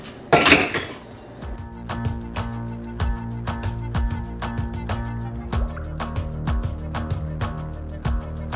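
Eggs and sugar being mixed in a bowl, with steady, rhythmic clinks of a utensil against the bowl repeating for several seconds after one loud knock at the start.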